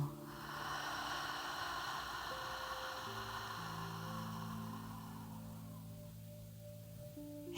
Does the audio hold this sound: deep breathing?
yes